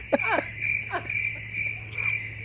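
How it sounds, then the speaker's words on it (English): Crickets chirp as a steady high-pitched trill playing continuously as a sound effect, with a voice speaking over the start. "Travis, cue up the crickets."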